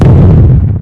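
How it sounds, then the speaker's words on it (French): A loud, close explosion booms at once and rumbles deeply, then decays over under a second with no voices. "autrement dit, l'explosion"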